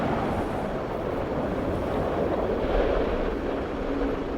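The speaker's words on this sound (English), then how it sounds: "Suddenly, the winds quicken and start to gust alarmingly." Strong wind gusts roaring steadily across a mountainside, a dense, loud buffeting rush that swells slightly midway with no pauses.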